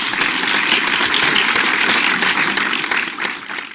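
Applause from an audience at a community game-show event, dense and steady clapping close and loud throughout, tapering slightly at the end.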